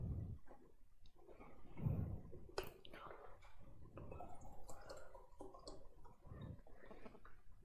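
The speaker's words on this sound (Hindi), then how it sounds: "इतने में मैं पानी पीती हूँ" A teacher drinking water during an online class, close, quiet gulps, swallows and mouth clicks in an uneven run with small pauses, nobody talking.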